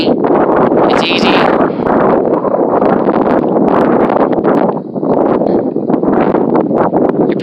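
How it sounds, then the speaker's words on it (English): Strong wind buffeting a microphone outdoors, loud continuous rumbling roar with gusty surges throughout, and a voice talking underneath. "it's really difficult to record a video in the wind"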